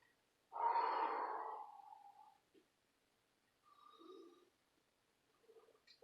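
A yoga practitioner takes a long audible exhale, strong and close, that tapers off, followed by softer breaths and quiet gaps between them, with no speech.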